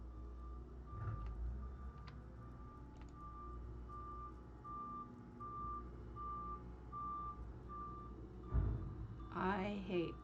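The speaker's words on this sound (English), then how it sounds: "I hate trucks outside." A truck reversing outside gives off steady, evenly spaced warning beeps that repeat right through the clip under a low rumble and background noise. A voice speaks briefly near the end.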